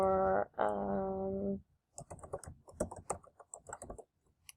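Quick, irregular clatter of keys typed on a computer keyboard, a short burst of closely spaced taps after a brief harmonic tone at the start.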